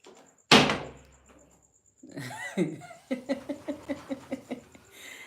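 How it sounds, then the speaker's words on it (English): A sliding door is bumped in a home, with a loud knock followed by a run of repeated rhythmic thumps and rattles, alongside faint voices and a small child's sounds nearby. "the other one is bumping a sliding door"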